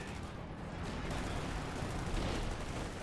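Airburst artillery barrage in Company of Heroes 2, a dense, continuous roar of overlapping shell bursts and crackling fire that stays loud and steady, swelling slightly toward the end.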